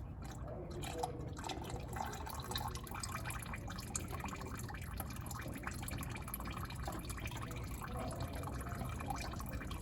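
Old engine oil draining from the filter mount during an oil change, a steady low trickling and dripping wash that runs without a break, faint and close.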